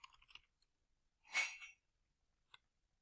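A few faint, soft clicks from a computer keyboard or mouse, sparse and quiet, with a brief louder rustle in the middle and a single tap near the end, no voice.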